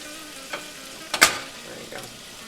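Onions frying in a pan on a home stove, a soft steady sizzle with a few brief stirring scrapes and one sharper clatter near the middle.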